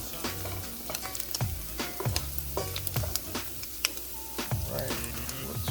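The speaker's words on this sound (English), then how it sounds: "so I added that whole bowl of rice in here. So now I'm gonna just mix it in." Cooked rice with water being stirred in a pan, sizzling and frying steadily while a utensil scrapes in repeated rhythmic strokes, close and fairly loud.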